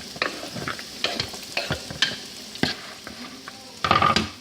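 Cucumbers and broccoli tossed together in a large bowl for an Italian pasta salad: irregular scraping and clattering stirring strokes, several distinct bursts with a busier flurry at the end, no talking.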